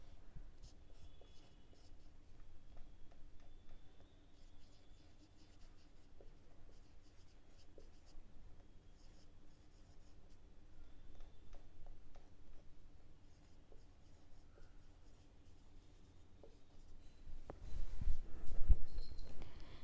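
A pen scratches across paper while accounts entries are written by hand, soft close strokes in a quiet room for a long stretch, with a louder rustle and handling noise near the end.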